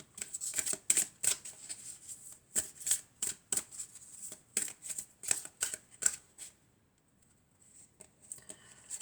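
Oracle cards are shuffled by hand in quick bursts of crisp riffling and flapping, repeated a dozen or so times in an uneven rhythm before a short pause and a few softer shuffles, close and clear with no talking.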